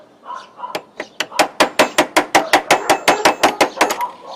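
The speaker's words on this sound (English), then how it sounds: "Went right down the street with the bump key and hammering device" A bump key hammered into a door lock with rapid, evenly spaced metallic taps, about a dozen and a half sharp knocks in a steady rhythm, close and crisp.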